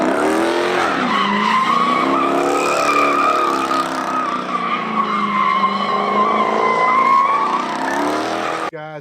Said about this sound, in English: they just start hitting donuts at the drop of a hat